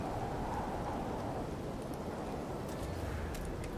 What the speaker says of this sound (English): This planet has a permanent extreme storm.